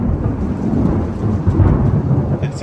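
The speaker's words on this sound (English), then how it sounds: "It's going to thunder" Loud rumbling thunder rolls continuously through a storm, deep and sustained with steady rain hiss underneath, swelling slightly in the middle before easing.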